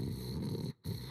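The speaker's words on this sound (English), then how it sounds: "Dang, that is a snore." A character snoring loudly and steadily through an afternoon nap in Genshin Impact, a rough, raspy breath that cuts off briefly before resuming.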